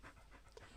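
A 14-and-a-half-year-old dog panting in quick, faint, steady breaths, close by and alone.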